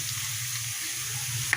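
Onions fry with masala in a pan, a steady close hiss and sizzle holding throughout, with no voices over it.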